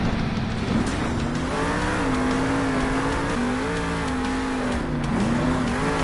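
The Whiplash monster truck roars through an arena at Monster Jam in Salt Lake City, its engine holding a loud sustained drone that climbs and dips in pitch as the throttle works.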